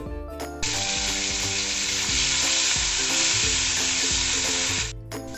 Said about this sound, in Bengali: এবার আমি দিয়ে দেব পেঁয়াজের পেস্ট।